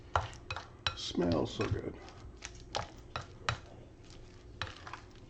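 Stuffing for a stuffed pork roast being folded together in a bowl, with a series of clinks, scrapes and soft wet squishes from a utensil, close and fairly quiet, and a brief spoken remark among them.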